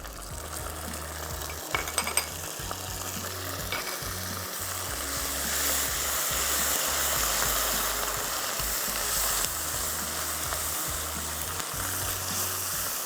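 Browned onions fry with garlic-ginger paste and green chili paste in a pan, giving a loud, continuous sizzle broken by stirring scrapes and a few metallic clinks, with no voices.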